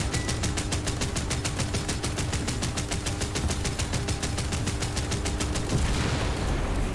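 Automatic gunfire in the War Thunder video game rattles off as a long, evenly spaced burst of about thirty rapid shots. It stops near the end, giving way to a softer rushing noise.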